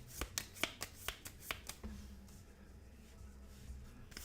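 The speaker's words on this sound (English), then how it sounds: "Just shuffle this stuff back in to the deck." Cards being shuffled back into the deck for a game of Sentinels of the Multiverse: a quick run of crisp riffling snaps over about two seconds, then quiet room tone.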